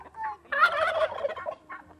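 Free-range chickens roaming loose in a flower garden, giving a run of loud, close clucking and gobbling calls in irregular bursts, with no talking.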